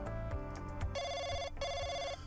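A phone rings in a visual novel game, giving two bursts of an electronic trilling ring over a busy music background, with no talk.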